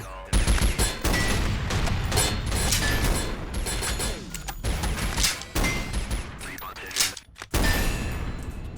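Video game gun fire during a single-shot weapon's active-reload sequence: loud sharp blasts and clanking mechanical clicks over a busy game soundscape, with a voice talking through much of it.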